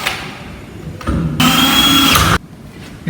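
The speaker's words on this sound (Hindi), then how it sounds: "तो आप इसमें इसके लिए होल करेंगे" An electric drill machine bores a hole for cable during staircase wiring installation, a short whir followed by a loud, steady high-pitched grinding burst of about a second that stops abruptly, close up.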